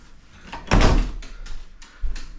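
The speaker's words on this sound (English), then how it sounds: "I heard the back door open" A house's back door opens somewhere off from a kitchen, with a soft creak and a couple of dull knocks and thuds spread over a couple of seconds.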